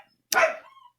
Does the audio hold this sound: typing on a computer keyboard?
no